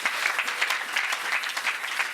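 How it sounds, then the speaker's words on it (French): A church congregation claps together in a continuous dense patter of applause, moderately near and steady throughout with no talk over it. "Acclamons pour la gloire de notre Dieu."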